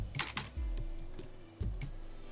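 A computer keyboard is typed on in short quick bursts of crisp clicking keystrokes, close and fairly quiet, with no talking.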